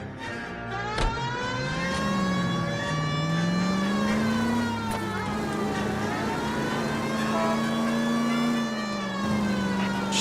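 A car driving in the L.A. Noire video game, its engine holding a steady, wavering drone with a siren-like wail rising and falling over it, continuous and fairly loud throughout.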